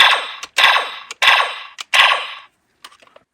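A toy KingOhger Caliber electronic sword-gun in gun mode fires four loud, sharp blaster bursts in quick succession, each with a bright ringing tail, followed by a few faint clicks.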